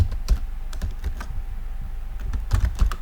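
Close, steady keystrokes on a computer keyboard while Python code is typed, uneven clicks with a few heavier thumps, no voices over them.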